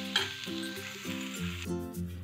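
Sugar melting in a hot pan while being stirred for a Bihari-style khoya pitha, a close steady sizzle with soft scraping stirs and a few tonal clinks, no talking.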